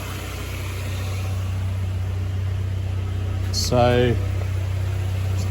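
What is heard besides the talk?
1995 Buick Skylark engine idling, warming up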